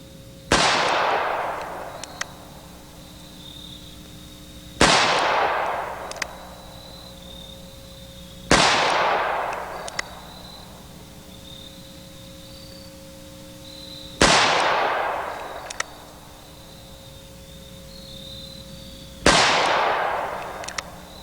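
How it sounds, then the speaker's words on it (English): A double action Colt revolver fires five sharp, loud shots outdoors, spaced roughly every four to five seconds, each crack trailing off into a short echo over quiet background. "let's go on and shoot it"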